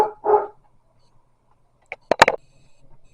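Two dogs, sister pets squabbling over bones, let out a short bark, then after a pause a quick burst of several sharp, loud barks close by, with faint whimpering trailing off.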